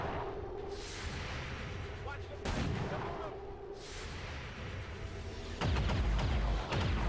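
Gunfire bursts in the video game XCOM 2, with sharp shot transients near the start, midway, and a heavier cluster of loud blasts toward the end, set against steady game background noise.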